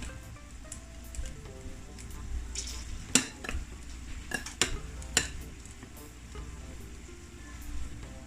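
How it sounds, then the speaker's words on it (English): Chicken wings are tossed and coated in a flour mix for Jamaican fried jerk wings, making soft rustling and squishing sounds with a few sharp clicks and taps against a bowl, heard close at a moderate level. "you want to coat it in this flour base"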